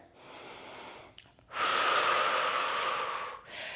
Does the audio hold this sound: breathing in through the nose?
yes